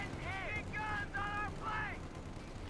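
Distant rattling gunfire in the Company of Heroes 2 strategy game, a few clipped bursts over steady battle ambience, with harmonic game effects layered on top.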